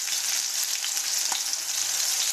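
Catfish frying in hot oil gives a dense, loud, continuous sizzle and crackle, close up, with a brief clack partway through.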